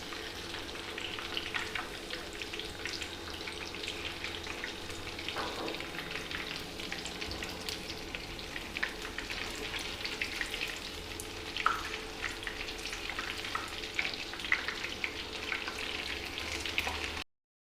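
Flipped chicken pieces frying in a pan, a continuous loud crackling sizzle with a few stirring sounds, steady throughout with no talk, ending abruptly.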